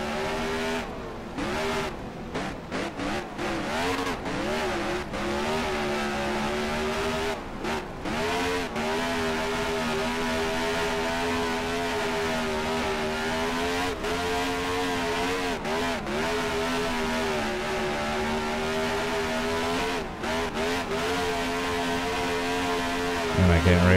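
SuperSprint mod sprint car engines race in NR2003 at the Chili Bowl, loud continuous whining drone that rises and falls with revs, broken by brief dips, with a voice talking over it now and then.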